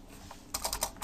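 Quick, light keystrokes on a computer keyboard, a short burst of about half a dozen close clicks after a quiet moment.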